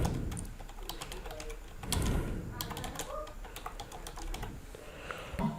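Rapid, close clicking of keys on a computer keyboard as a web address is typed in, a steady run of light taps with brief pauses and no talking.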